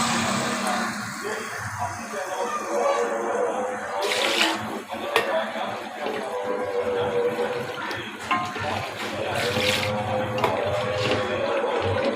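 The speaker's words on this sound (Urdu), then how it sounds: "تو اب میں اس کے اندر پانی ڈال دوں گی" Water pours steadily from a tap or jug into a pot of fried masala for Hyderabadi chicken pulao, a continuous splashing and gurgling stream with a few sharper sizzles and clinks.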